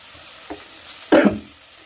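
Chopped tomatoes drop into a hot pan for chicken curry, giving a short, close burst of sizzling and stirring over a faint background hiss.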